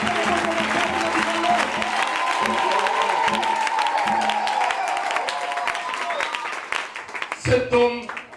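A church congregation applauds with sustained, dense clapping and some cheering, steady for several seconds before thinning into a few scattered claps as a voice returns.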